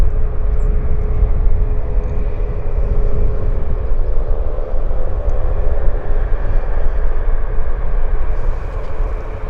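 An airliner at Vancouver Airport starts its takeoff roll in windy conditions, a loud, steady jet engine roar that swells slightly and holds, heard from a distance with no talking.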